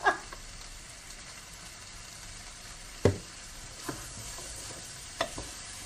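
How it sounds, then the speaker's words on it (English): Onions being stirred in hot olive oil in a pan, a soft steady sizzle with a few sharp scrapes and clacks of the spoon against the pan at intervals. "I'm just keep mixing that round, just making sure the olive oil and the heat is going onto everything."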